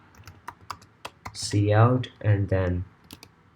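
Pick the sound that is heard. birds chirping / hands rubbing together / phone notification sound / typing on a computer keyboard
typing on a computer keyboard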